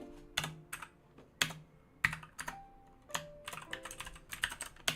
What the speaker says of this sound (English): Realize I type really badly.